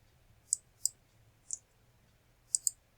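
Five sharp computer mouse clicks, close and crisp, arriving at irregular intervals with the last two in quick succession, over a faint low hum and no talking.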